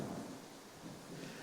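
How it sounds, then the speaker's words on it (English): Steady rain pouring outdoors, a dense even wash of hiss with low rumbling underneath, constant throughout and fairly faint, no voices. "It's now raining here."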